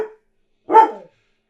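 A dog gives a short single bark at close range, with a faint clipped sound just before it and silence after, and no voices.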